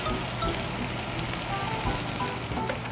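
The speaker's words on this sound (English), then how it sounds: "Now we'll just cook this off until that celery and onion are tender." Sausage, celery and onion fry in a pan with a steady, close sizzle and crackle that runs throughout, no voices present.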